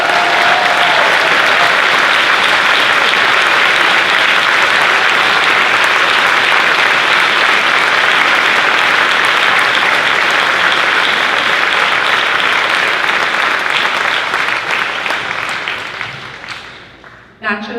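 Audience at a school ceremony breaks into loud, sustained applause, a dense wash of clapping that continues evenly for many seconds before fading out at the end, with a short sound just after.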